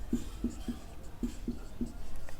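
Pen or chalk writing during a Hindi physics lesson on vector quantities, a series of short scratchy strokes in an uneven rhythm, close and fairly quiet, with no speech over it.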